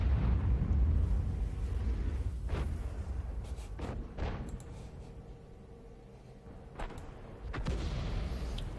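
A 155mm howitzer firing in the Lorraine 155 mle.51 self-propelled gun in a video game, heard as a deep rumbling boom that fades slowly, followed by a few fainter distant thuds, with no talk.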